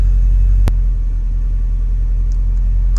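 A car engine idles steadily with a deep, constant low rumble, close and loud, broken once by a brief sharp click early on.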